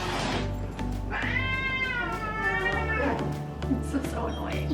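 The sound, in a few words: cats meowing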